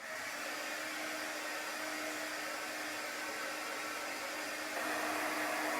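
A hair dryer blows in a steady, loud whoosh while drying chalk paste on a wooden door tag, running unbroken and stepping up slightly in level near the end.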